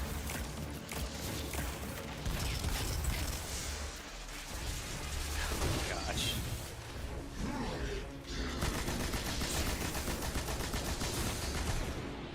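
Dense gunfire in a video game, rapid overlapping shots and bursts that keep going throughout the stretch, loud and continuous, with someone talking over it at times.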